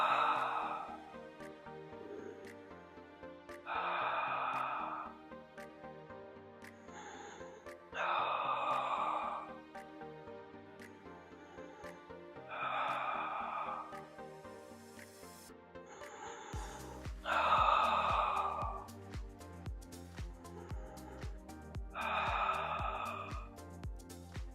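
Slow, audible exhalations during an intermediate-to-advanced Pilates session, about six breathy whooshes spaced several seconds apart over soft background music, with a faint voice at times.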